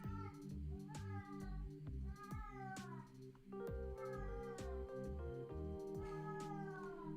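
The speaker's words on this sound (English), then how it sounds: "the cat wants to give their commentary" A cat meows repeatedly near the microphone, its rising and falling calls coming in several bursts over a steady backdrop of video game music.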